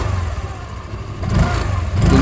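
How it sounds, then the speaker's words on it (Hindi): A Hero Destini 125 scooter's engine starts and runs, a low smooth hum that steadies and then swells slightly as it revs, close by with no talk over it. "आप सुनते हैं इसका इंजन साउंड। काफ़ी जो है स्मूथली ये स्कूटर स्टार्ट होती है।"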